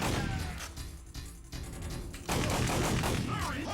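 Gunfire from a PS1/PS2 lightgun video game played on real hardware, a loud, continuous barrage of rapid shots and blasts that briefly eases before returning at full volume.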